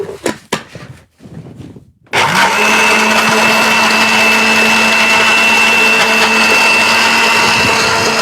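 A kitchen blender blends carrots with water. A few sharp knocks and clicks come first, then the motor kicks in at about two seconds with a loud, steady whir that runs unbroken to the end.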